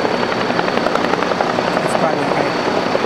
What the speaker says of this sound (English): let's let the helicopters go by here for just a second